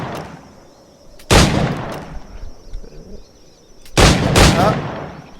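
Two loud, sharp gunshots about three seconds apart hit targets in the video game Assassin's Creed IV Black Flag, each followed by a short echoing tail over quiet background.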